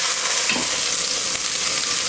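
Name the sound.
beef cheeks browning in a pan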